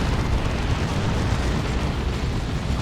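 Orbital bombardment explosion in the real-time strategy game Dawn of War 2 during a 3v3 match, a dense continuous roaring blast with heavy low rumble sustained throughout, loud and close.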